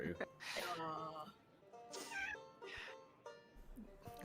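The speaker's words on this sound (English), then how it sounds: "There's a cat from somewhere." A hungry cat meows several times, with drawn-out, tonal cries spaced a second or so apart, fairly close, while people talk faintly between the calls.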